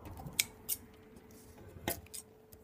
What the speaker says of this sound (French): on coupe les extrémités toujours